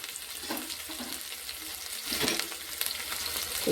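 Curry leaves crackle and sizzle in hot oil inside a pressure cooker for Telangana-style kalakura, a soft, continuous frying hiss with occasional stirring scrapes that grows a little louder toward the end.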